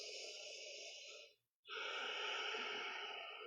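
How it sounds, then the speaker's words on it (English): Long, steady breaths during a yoga pose, a drawn-out exhale followed by a brief pause, then a fuller inhale, close and soft. "we breathe."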